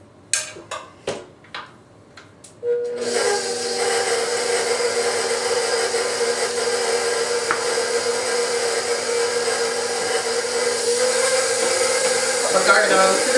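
An electric mixer beats unsalted butter and powdered sugar for champagne cupcake icing, starting after a few clicks and then running as a steady, close whir that holds for about ten seconds.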